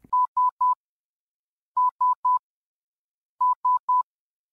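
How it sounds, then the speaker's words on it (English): Morse code letter S sent as a wireless telegraph transmission: three short, clean beeps in quick succession, repeated three times with pauses between groups, loud and isolated against silence. "The transmission was the letter S, in Morse code, of course. It just went dit,"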